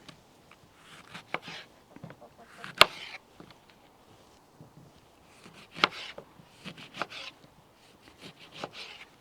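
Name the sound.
knife slicing lemons for elderflower cordial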